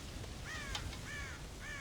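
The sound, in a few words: crows cawing, from the video game Red Dead Redemption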